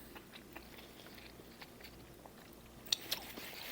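Someone bites into and chews cordon bleu meatloaf up close: soft, quiet mouth sounds followed by a couple of sharper crunchy bites near the end, with no talking.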